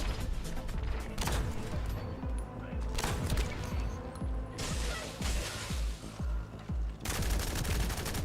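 Rapid gunfire from an unlimited-ammo sniper rifle in The First Descendant, many sharp shots in quick succession with some louder bursts, all over a busy game-action background.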